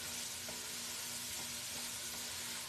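Pasta being stirred in a pot during home cooking: a quiet, steady hiss with faint soft scrapes and taps scattered through it, no voices.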